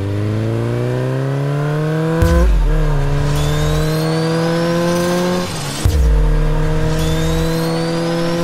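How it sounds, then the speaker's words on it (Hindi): A car engine revs and drives, loud and close, rising in pitch through gears with two sharp drops as it shifts, no talk. "अरे टोनी भाई, अपना गाड़ी ऊपर कैसे जा रहा है?"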